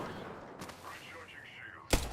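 Gunfire in a video game: a couple of sharp, loud shots crack near the end after a stretch of faint background noise and murmured game audio.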